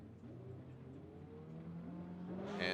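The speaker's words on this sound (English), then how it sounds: "And we are sending the cars." Drift cars idling then revving as they launch at the start of a run, a low rumbling engine tone rising steadily and growing louder toward a sharp burst at the end.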